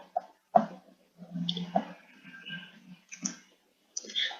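Keyboard and mouse clicks while a spreadsheet formula is entered on a computer, a handful of sharp, separate taps spread across the moment, near and fairly quiet.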